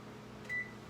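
An oven timer is set while a lemon poppyseed loaf bakes, giving one short, clear electronic beep over a quiet hum.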